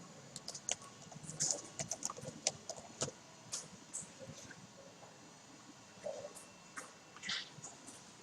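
Light, fast keystrokes on a computer keyboard while text is typed, quiet irregular clicks in short bursts with pauses between them, nothing else around.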